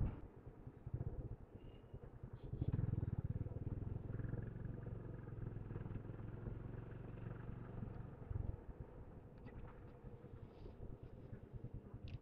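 A motorbike is started and ridden along a road, its engine a low, steady drone heard faintly at a distance, swelling briefly early on and then holding even.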